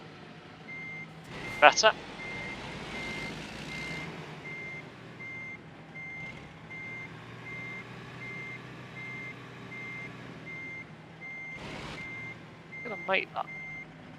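Truck reversing beeps from a heavy truck backing into a tight parking spot in American Truck Simulator, Texas, short clear beep bursts near the start and end over a steady engine rumble, with someone talking throughout.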